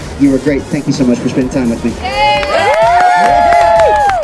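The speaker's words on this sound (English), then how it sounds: "When she goes, you guys cheer and make as much noise as you can" A street magic show crowd in Las Vegas cheers and whistles loudly and steadily after a performer speaks briefly to a volunteer, with shrill whoops rising over the noise.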